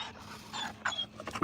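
A big dog makes a run of short whimpering and yipping sounds close by, quiet but clear, in uneven bursts that grow a little louder toward the end.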